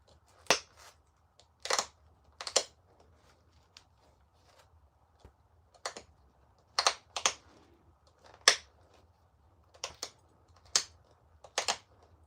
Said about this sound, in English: Just very small flakes that I'll push into the side to make little teeth.